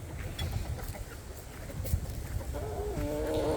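Chickens cluck inside a suburban homestead chicken house, soft scattered calls against low background rumble, with a clearer run of clucks toward the end.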